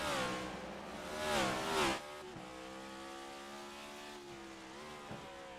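Race cars lapping Martinsville Speedway, a harmonic engine whine rising as cars accelerate past and then settling into a steady tonal drone of several cars at mid distance, with a brief louder surge early on.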